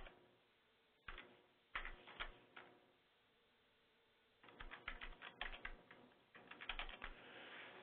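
Bursts of clicky computer-keyboard typing from a SLES Linux demo, with irregular clusters of keystrokes split by pauses. The clicks are close and fairly quiet, and no one speaks.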